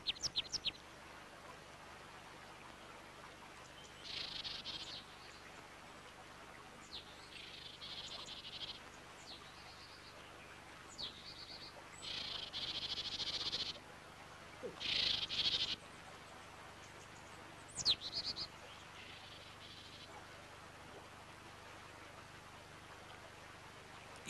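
Small tits chirp in short scattered bursts around a bird feeder outdoors, thin high calls spaced across a quiet background with long gaps between them.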